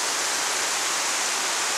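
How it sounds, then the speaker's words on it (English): Pole Creek pours into Cook Lake with a steady, loud rush of flowing water, a broad continuous hiss heard close by with no voices. "there's a shot of Pole Creek flowing in"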